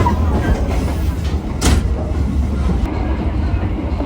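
A passenger train running on a new railway line from Padang, West Sumatra, with a steady loud rumble and rolling wheel noise heard from onboard, plus a brief sharp squeal midway.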